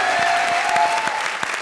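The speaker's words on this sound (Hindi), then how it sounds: "जोरदार तालियां हो जाए मेरे मालिक के लिए" A studio audience at a comedy show breaks into steady, dense clapping that stays loud and even throughout, with a faint murmur from the crowd beneath it.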